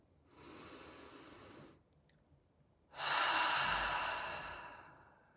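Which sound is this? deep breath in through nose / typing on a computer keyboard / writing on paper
deep breath in through nose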